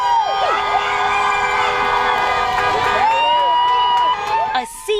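A passionate crowd outside the Norfolk County Superior Court in Boston, many dressed in pink, roars continuously with cheers, whoops and high shouts under a loud steady wash of voices, thinning slightly near the end.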